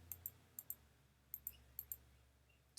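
Soft paired clicks of a computer mouse, quiet and close, come in quick double taps spaced through a near-silent room.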